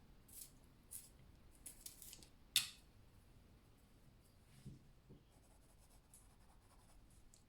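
Colored pencil being sharpened by hand during adult coloring, faint scraping and grinding strokes in short bursts, quiet and close, with a sharper click partway through.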